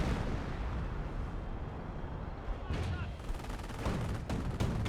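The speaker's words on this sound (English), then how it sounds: "This is force firing on the ground to destroy the hedges. It should be a pretty close range barrage there." A close-range artillery barrage in Company of Heroes pounds hedges with dense, continuous rumbling blasts, with sharper impacts near the end, heard under a speaking voice.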